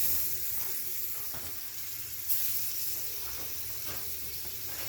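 Freshly caught wild game meat from Ohio public land sizzling in a hot pan, a steady bright hiss of frying with small crackles, close and continuous with no talking.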